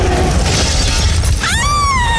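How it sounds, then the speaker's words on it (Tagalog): A car window's glass shatters in a loud, sudden burst, followed by a sustained, wavering tonal sound. "Laking gulat ko nang biglang napakasan ang bintana ng kotse"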